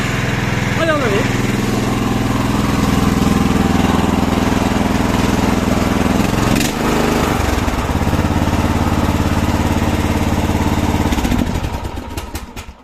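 A small Subaru engine drives a Thor 18-ton log splitter. It runs loud and steady at close range with a constant buzzing drone for over ten seconds, then cuts out near the end.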